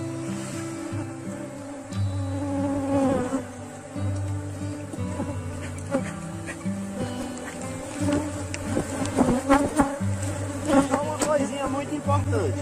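A honeybee swarm at a freshly split hive box hums with a dense, loud, continuous buzz from many bees close by, and a low steady drone runs underneath with occasional handling knocks.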